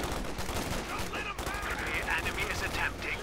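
Sustained MG42 machine gun fire rattling through a Company of Heroes 2 battle, dense and mid-distance, mixed with other combat noise and a caster talking over it.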